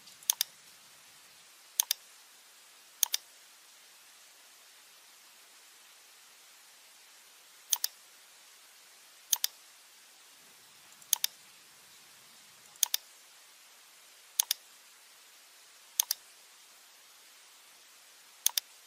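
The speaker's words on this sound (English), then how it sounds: "click on the nodes of the roof" Computer mouse clicks while working in RFEM structural software, sharp quiet double clicks arriving every second or two over faint background hiss, close and isolated with no talking.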